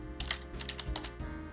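Fingers typing on a computer keyboard, a quick close run of about a dozen crisp key clicks over a second and a half.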